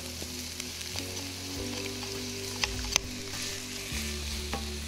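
Thinly sliced courgettes frying in a pan, a steady close sizzle with occasional stirring clicks and scrapes, no talking.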